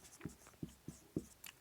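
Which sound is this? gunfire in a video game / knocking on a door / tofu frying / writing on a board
writing on a board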